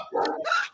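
A dog gives a quick pair of barks, close and fairly loud, the second higher and sharper than the first, with no talk over them.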